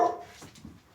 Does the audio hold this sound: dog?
yes